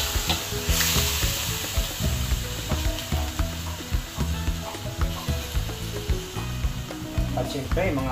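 Squid sautés in a hot pan, a loud continuous sizzle broken by regular rhythmic stirring scrapes and clacks of a utensil, with no speech.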